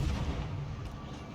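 Warship main guns firing in the naval game World of Warships at a battleship Alabama, a deep heavy boom rolling into a low rumble, brief and moderately loud.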